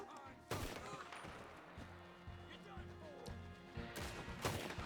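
Explosive-ammo rifle shots in Red Dead Redemption 2, fired during a Beaver Hollow chapter fight: two sharp, loud blasts a few seconds apart over a busy backdrop of game noise and quieter crackling, with voices talking underneath.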